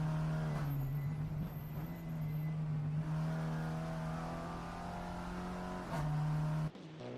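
A race car from the Supa Polo Cup drives through Crowthorne Corner, a steady loud engine drone holding pitch, briefly shifting and rising near the end before cutting off, with no talking.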